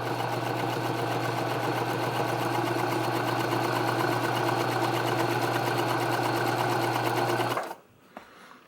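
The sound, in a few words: industrial sewing machine sewing 1000 denier nylon with leather needle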